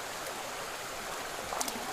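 River water flowing below a mine, a steady soft rushing and trickling of a stream, faint and even throughout with a few small splashes near the end.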